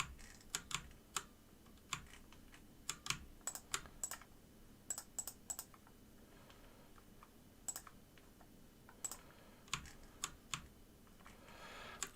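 Close, fairly quiet computer keyboard typing and shortcut key presses while editing game textures, irregular clusters of crisp clicks separated by short pauses, with no talking.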